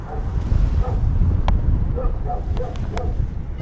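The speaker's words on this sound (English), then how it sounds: "There's a friendly dog already. Oh, it's gonna bark at us." A dog barks in a series of short, sharp yips at paragliders landing in Bassano, carried over steady wind rumble on the microphone.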